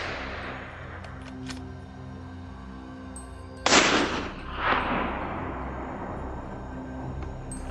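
A rifle shot fired at a wild boar on a snowy hillside in Alaska cracks loudly once, followed by a second sharp report and a rolling echo that fades over ambient outdoor noise.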